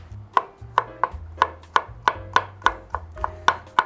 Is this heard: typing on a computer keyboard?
no